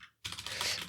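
Typing on an English-layout computer keyboard, a quick run of close, crisp key clicks starting abruptly after a brief silence.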